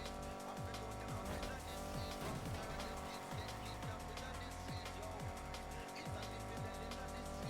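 A race car engine held at full throttle in the video game Need for Speed Heat, a loud continuous roar with repeated gear-shift dips and rising revs, plus some tire squeal.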